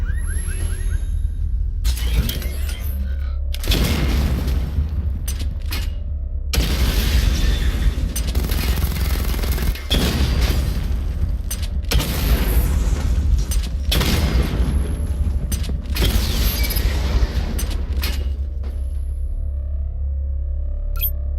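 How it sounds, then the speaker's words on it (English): Missile barrage explosions in Batman Arkham Knight: a rapid series of heavy booms and bursts with crackling debris, repeating every second or two over a constant deep rumble, loud and dense with no voices. "Charge the missile barrage to level 2 to destroy up to 4 targets at once."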